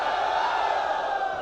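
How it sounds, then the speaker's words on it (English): A hackathon crowd cheering loudly all at once, a dense sustained roar of many voices filling the room without a break. "On a count of 1, 2, 3, I want to hear the loudest cheer that we can have."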